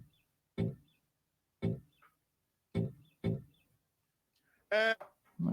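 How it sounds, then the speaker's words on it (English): A bird, seemingly a duck, gives several short quacking calls at a steady spacing, loud and close, with quiet gaps between them and a longer honking note near the end. "Is that a bird?"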